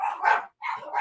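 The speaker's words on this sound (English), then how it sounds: "I got my dogs going all crazy." Dogs bark excitedly in a pair of quick, sharp barks, close and loud, with a short silence between them.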